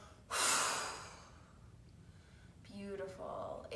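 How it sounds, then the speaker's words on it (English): A powerful, forceful exhale through the nose or mouth during a healing breathing practice, loud and breathy for about a second, followed by quieter breath sounds. "And powerful exhale"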